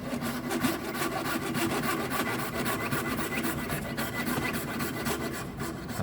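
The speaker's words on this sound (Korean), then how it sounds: "붙이고 나서 톱을 밀어 넣고 그대로 직선으로 파고 들어가야 돼요." A hand saw cuts through a dental plaster model, the rapid back-and-forth strokes forming a steady, close, gritty rasping rhythm that carries on without pause and without voices.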